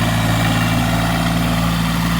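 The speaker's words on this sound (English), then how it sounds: "We're trying to use a little tractor because Maddie knows how to use this one at least a little bit" A small tractor engine idles steadily nearby, a low, even rumble with constant vibration and no change in pace throughout.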